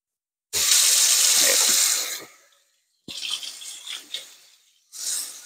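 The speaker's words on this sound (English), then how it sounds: "Just going to do a little simple cleanup. Wash the knife. Wash the scraper." A kitchen tap runs in bursts as a knife and a scraper are washed: a strong gush of water for over a second, then shorter, uneven splashes and trickles after a silent break, close and alone.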